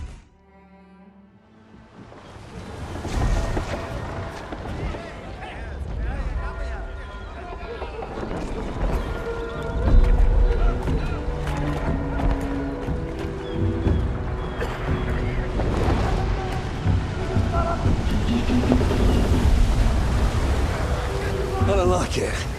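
A sailing ship rolls across the ocean in the New World: Aeternum game, creaking hull and rushing wind and water building into a loud, continuous wash, with voices talking over it.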